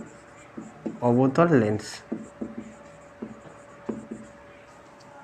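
Brief scratches of writing on a board during an optics lesson, a few short strokes and taps spaced out after a person speaks briefly, quiet and close.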